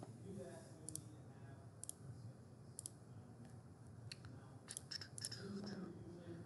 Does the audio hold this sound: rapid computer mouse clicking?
yes